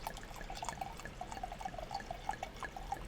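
Cabernet Syrah red wine poured into a glass, a faint liquid trickle with small gurgling drips in an uneven rhythm, close and quiet.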